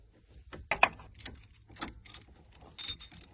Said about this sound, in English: we're gonna try all these keys out until we get one that turns